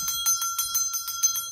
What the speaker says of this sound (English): Olivine does not like that bell.